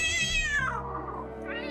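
A fluffy yellow cat gives a single drawn-out meow with a falling pitch, close by and fairly clear, followed by a short rising mew at the end.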